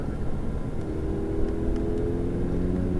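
A Ferrari 488 GTB on the Fay-de-Bretagne race circuit, its engine a steady, rising hum and whir heard from inside the car, gently accelerating at moderate loudness with no voices.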